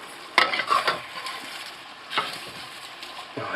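Kaffir lime leaves dropped into hot oil and pushed under, crackling and sizzling in short bursts with spoon-against-pan stirring, close by and without talk.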